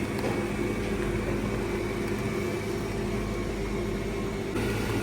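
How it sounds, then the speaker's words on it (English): An electric mixer on slow speed beating cheesecake batter, a steady even motor hum with a soft whirring texture, continuous and unchanging, no talk. "start mixing in slow speed"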